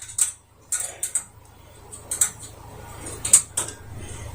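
Soundbar mount screws being tightened by hand with a small supplied tool: a series of sharp, close clicks and ratcheting ticks in irregular bursts over a quiet low hum.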